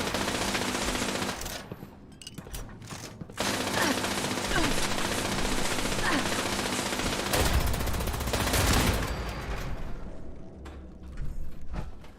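Gunfire in the video game Fallout 76, bursts of rapid shots in clusters amid noisy game action, with a voice speaking faintly at times.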